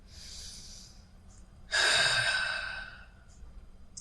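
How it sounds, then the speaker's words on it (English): A slow, deep breath: a soft, airy inhale, a short pause, then a louder, longer exhale that slowly fades. Both are close and quiet, with a faint puff at the end and no speech. "Take a deep breath."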